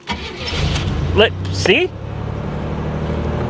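A 1987 Buick Grand National cranks and fires on a cold day, a rising starter whine giving way to a steady, close idle rumble; someone speaks briefly over the start.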